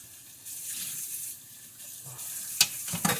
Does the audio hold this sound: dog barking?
no